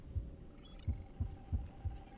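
A slow, steady heartbeat from the video game Honkai Star Rail, five soft, muffled thumps at an even pace over a faint background hum.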